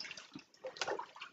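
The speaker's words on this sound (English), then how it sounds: "Gently squeeze the water out of this wrap." Water is squeezed out of a soapy wool nappy cover, giving soft, close splashes and trickles in short uneven bursts, quiet and alone.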